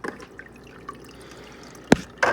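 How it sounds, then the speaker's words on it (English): Water from an aquarium filter trickles down over a glued-on bracket: a soft, continuous dribble with two sharp, close drips standing out near the end. "the water coming out of the filter here basically hit that, kind of like a dam kind of situation"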